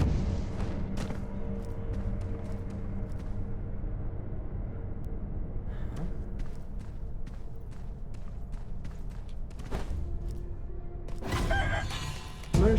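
Aggressive chickens in Sekiro, with scattered sharp clucks and squawks over a low rumbling ambient bed, and a louder burst of fowl noise near the end.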